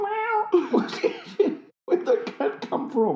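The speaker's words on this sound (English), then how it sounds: "Where'd that cat come from?" A cat meows and yowls several times in short, wavering cries, close and fairly loud, with a brief pause midway, mixed with voices and a music track.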